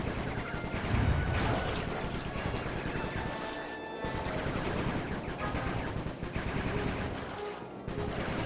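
Rapid bursts of gunfire from Bentley shooting at a blue Viper in Sly 3, loud and dense, with crashing impacts mixed in and a couple of brief lulls.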